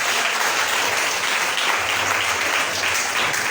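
A church congregation at a French-language worship service claps and cheers in sustained, dense applause that fills the room at a steady level from start to finish.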